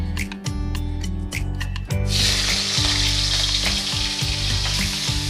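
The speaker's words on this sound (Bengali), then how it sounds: "চিংড়ি মাছগুলো আমি এখন আলু ভাজা তেলের মধ্যে ভেজে নেব" Prawns rubbed with salt and turmeric frying in oil left over from frying potatoes, a loud, steady sizzle that bursts up sharply partway through and keeps crackling without pause.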